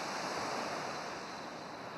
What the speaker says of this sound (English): I would hear the steady song of the sea